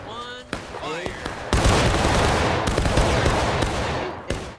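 A volley of gunfire in a multiplayer video game, a dense roaring burst of overlapping shots lasting a few seconds after a short spoken order, loud and close.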